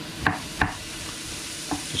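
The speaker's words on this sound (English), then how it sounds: "so I'm just going to slice it up as best as I can" A knife slicing vegetables for a vegan chilli, a few crisp close cuts against a board over a steady background sizzle, no voices.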